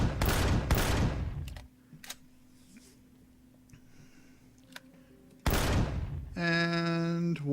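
Gunfire in the sci-fi survival game Empyrion: Galactic Survival, fired at turrets and drones: two sharp, loud shots open, a quiet stretch with faint ticks follows, then another heavy burst before a ringing electronic tone.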